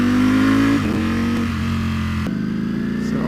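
A Ducati V4 Speciale motorcycle engine revs hard at close range, a loud sustained roar broken by quick upshifts that drop the pitch twice in about three seconds, with no talk over it.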